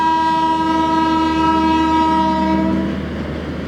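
The Saharsa–Anand Vihar Garib Rath special train passes near Badganiya railway station, its long, loud steady horn blaring for over three seconds before trailing off, with rail rumble underneath.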